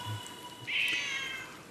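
A pet cat gives a single short meow, fairly clear over a quiet room with faint background hum.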